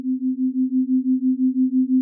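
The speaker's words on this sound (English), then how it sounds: "258 Hz crystal singing bowl C note" A 258 Hz crystal singing bowl sounding a C note, producing a pure, steady sustained tone with a gentle regular pulsing wobble, clear and alone.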